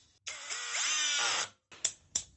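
A 5-in-1 multi-head cordless screwdriver drives a 4.5x60 mm screw in a single whirring burst whose pitch rises as the motor loads, then stops, followed by two brief clicks; close and clear, no talking.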